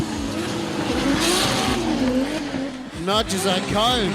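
A drift car slides sideways through a run at D1GP Malaysia, engine droning steadily with tyre squeal and revving shifts near the end, all under continuous commentary.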